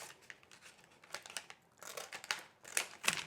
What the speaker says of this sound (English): I'm going to cut away this excess